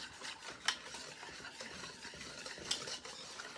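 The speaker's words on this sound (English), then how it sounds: "we'll come in with a whisk and whisk it together" A whisk stirs macaroni salad dressing with sugar in a bowl, giving a soft, quiet, continuous swishing with a couple of light clinks against the bowl's side.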